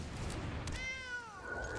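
A single cartoonish cat meow rises and bends for about a second, the Ghost Cat card in Magic the Gathering Arena, clean and alone over a low game background.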